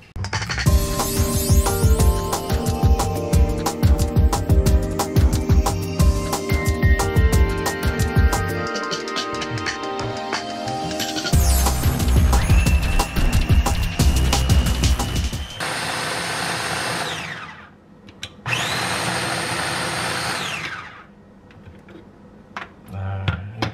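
Electric blender grinding chilies for tomato sambal: loud, whirring motor bursts with clattering, rough grinding, starting and stopping a few times, with kitchen clatter before and voices talking.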